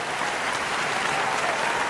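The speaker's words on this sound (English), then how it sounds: "Applause, please." Audience applause greeting the host at the opening of a show, a dense, even roar of many hands clapping, steady and fairly loud throughout with no talking.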